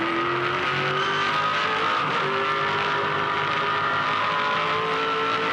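V8 Supercar race car at Eastern Creek Raceway in 2007, engine note dropping as it downshifts and brakes hard into a corner, a loud onboard drone with a falling pitch and a brief blip midway.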